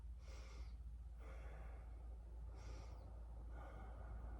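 Slow, deep breathing during a yoga power flow, as a person holds a squat pose: several audible airy inhales and exhales in an even rhythm, close and soft, over a low steady hum.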